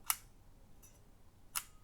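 Two crisp, faint mechanical clicks, about a second and a half apart, from the shutter of a 1930s camera firing at roughly 1/40th of a second, close and quiet with near silence between.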